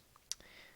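A single sharp mouse click lands on an OK button in a video game, one brief crisp tick against faint background hiss.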